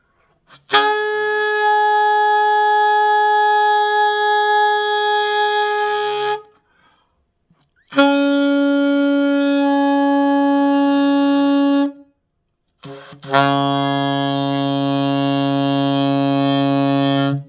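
Saxophone sounding an F overtone while fingered for low B flat, three sustained tones, the first two long and steady and the third wavering lower at its start, separated by short silences, loud and close.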